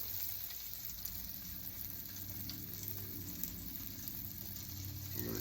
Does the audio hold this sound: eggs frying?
yes